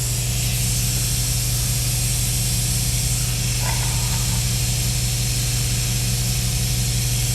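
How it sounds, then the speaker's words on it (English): A 7.3 Powerstroke diesel engine with its injectors pulled is turned over, producing a steady loud hissing, spraying rush with a low continuous hum underneath, close and unbroken. "We will then rotate the motor over and push out any oil"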